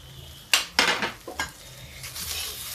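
Curry leaves drop into okra frying in a pan, giving a few sharp clinks and scrapes from a utensil and then a rising sizzle close by, with no voices.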